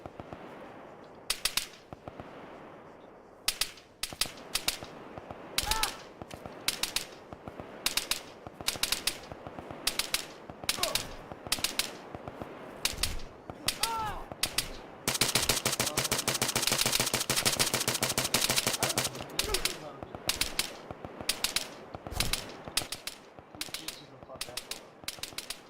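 Gunfire in the military shooter game ARMA 3: sharp rifle shots in scattered single cracks and quick bursts, with a sustained stretch of rapid automatic fire in the middle, loud and close, while players talk faintly in the background.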